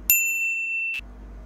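A bright single bell ding rings out clearly, sustaining a pure tone for about a second before cutting off, over a faint low background hum.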